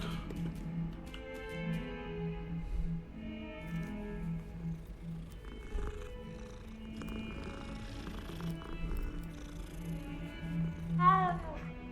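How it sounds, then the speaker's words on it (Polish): A cat in the video game Hogwarts Legacy gives a brief meow near the end, over game music and ambient sound. "O, kotek."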